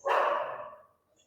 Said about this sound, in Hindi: ये किसी ये किसी का पालतू कुत्ता है।